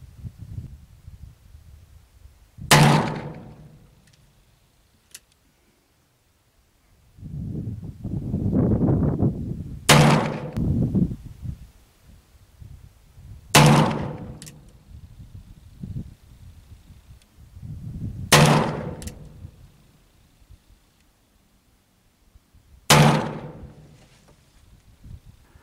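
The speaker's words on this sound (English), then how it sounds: "looks like I had 2 that flew to the right, but I did kind of rush those shots" Remington muzzleloader firing cast round balls outdoors: five loud, booming shots spaced several seconds apart, each decaying quickly, with quieter handling rustle between them.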